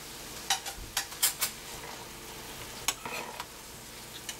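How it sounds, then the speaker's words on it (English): Noodles being stirred in pan juices with a utensil scraping and clinking against the pan in quick irregular strokes over a soft, steady sizzle. "we're going to start mixing it up with the juices that we've got left in our pan"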